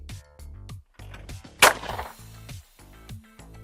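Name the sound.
shotgun shot at a clay target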